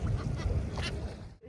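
Ducks or similar waterfowl gather near a boat at the Prayagraj sangam to feed on scattered grain, their quacking and honking mixed into steady loud water and engine rumble, with a brief quiet dip near the end.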